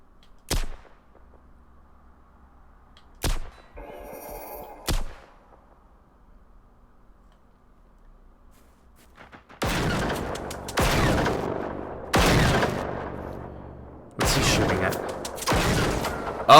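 Gunfire in the video game Generation Zero: a few isolated sharp shots ring out early, then after a quiet stretch come loud, sustained bursts of shooting in several close-spaced volleys.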